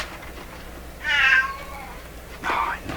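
Peanut the cat meows twice indoors, two short plaintive cries about a second and a half apart, close and moderately loud over faint room noise.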